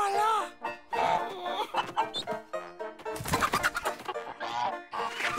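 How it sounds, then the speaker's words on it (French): Chickens cluck and squawk in quick, excited bursts, mixed with voices talking over them. "Monsieur Peabody, derrière vous, des poules avec des dents."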